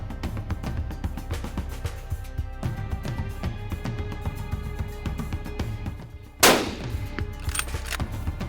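A single sharp rifle shot cracks out during a hunt in the Karoo, loud and sudden after a stretch of quiet outdoor background, followed by a brief fading tail.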